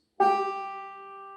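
A single banjo fifth string plucked once, ringing a clear G note that lingers and slowly fades, heard alone and close.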